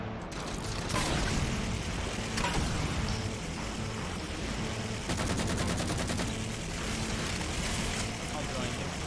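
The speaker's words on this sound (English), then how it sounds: "maybe I can take it out by using this turret" Rapid mounted-turret gunfire in the sci-fi shooter Halo 4, a dense sustained burst of repeated shots over loud, continuous game noise and rumbling vehicle sounds.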